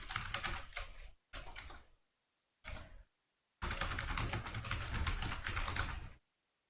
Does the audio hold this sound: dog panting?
no